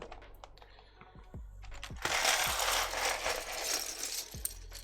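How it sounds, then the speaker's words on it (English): Keycaps are pulled off and sorted for a custom F18X keyboard build. Light plastic clicks and rattles come in quick irregular bursts, close up over a steady background hiss. "Let's get the keycaps out"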